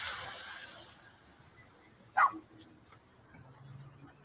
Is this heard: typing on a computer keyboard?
no